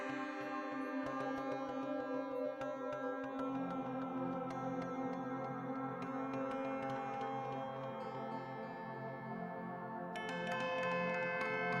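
A Eurorack synthesizer module holds a sustained, buzzy, harmonically rich tone on a C note, fairly faint and steady throughout, with a brighter layer joining near the end and no talking.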